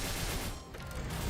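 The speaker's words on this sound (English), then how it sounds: "There it is, like a little explosion at the end of it." Video game marksman's Pierce shot ends in a small explosion, a rapid, dense burst of crackling impacts that dips briefly midway, then returns just as loud.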